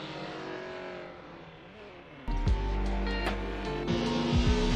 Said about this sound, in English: I think that's his car as he's just warming the tyres up at the Knockhill circuit